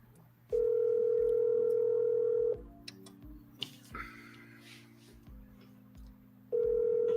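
A phone call ringing out, heard as two loud, steady ringback tones separated by a pause filled with faint clicks and background noise.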